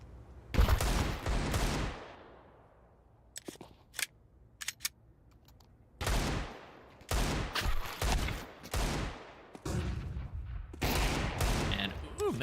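Rapid gunfire bursts and single shots from a competitive ESEA match of a first-person shooter, loud and repeated in clusters with short pauses, with a commentator's voice running underneath.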